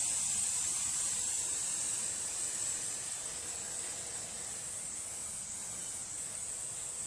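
An aerosol spray can hisses steadily and close by for several seconds, cleaning parts of a Briggs & Stratton opposed-twin lawn mower engine, with a bright, unbroken jet and faint background rumble.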